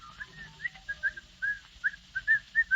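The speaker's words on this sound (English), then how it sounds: "Down the stairs comes the happily demented Mr. Van Dyke, whistling cheerfully." A man whistles a cheerful, bouncy tune in a vintage radio drama scene, short repeated melodic notes in a lively rhythm, clear and alone without talk.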